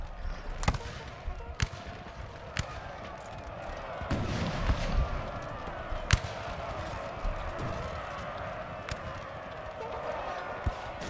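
Scattered musket volleys from guard grenadiers in the Napoleonic Total War 3 game crack out as sharp, irregular shots over a dense rumble of battle noise, with a voice talking throughout.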